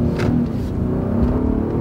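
Heavy all-wheel-drive car accelerating hard, a steady loud engine rumble and rising rev note held close throughout with no talk.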